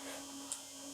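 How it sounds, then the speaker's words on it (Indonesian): A steady low electrical hum from a refrigerator running indoors, faint and constant throughout with no talking, one tiny click in the middle. "Ini suaranya itu kulkas ya, suara kulkas kayak gini ya, mengganggu banget ya."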